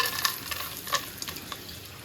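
Nuts frying in a pan for chana dal halwa, a soft continuous sizzle with scattered stirring scrapes at moderate closeness, no voices.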